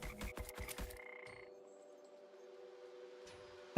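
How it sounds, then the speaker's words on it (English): Frogs croak in a game under development, a rapid cluster of low, rattling croaks up front followed by a thin sustained tone fading into near silence. "So we get frogs. We can have a plague of frogs."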